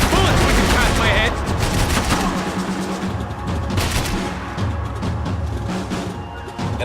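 Video game gunfire on a no-golden-guns hardcore run rattles in dense, loud bursts throughout, with bullets whizzing past amid constant shooting and booms.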